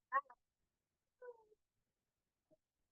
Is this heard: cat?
yes